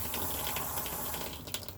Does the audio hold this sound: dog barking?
no